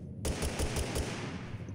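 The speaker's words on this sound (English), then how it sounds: "fire off a couple warning shots" Warning gunshots in Totally Accurate Battlegrounds: a quick burst of five evenly spaced shots cracks out after a brief silence, followed by a fading echoing tail.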